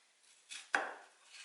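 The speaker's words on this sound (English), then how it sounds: "I'm going to end up with a very uniformly diced onion" A knife dices an onion on a cutting board, giving two quick close chops about a quarter second apart, the second sharper and louder, each trailing off in a soft scrape.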